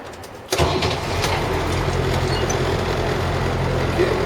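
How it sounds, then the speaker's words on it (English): A bus engine cranks and fires up after a brief quiet moment, then settles into a steady, loud rumbling idle that continues to the end. "as I start my vehicle, I'm listening for any unusual noises"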